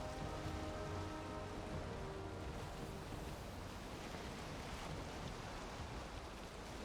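Heavy storm rain hisses steadily over the open ocean in a video game, a dense, constant wash of falling water with faint tonal hum underneath, moderately quiet and unbroken by voices.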